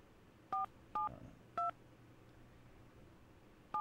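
A telephone keypad dials out to call a wife, four separate touch-tone beeps spaced unevenly over a quiet hiss, clear and near.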